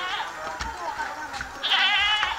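A castrated male goat being sold bleats with wavering, quavering cries, near and moderately loud, while people talk over it.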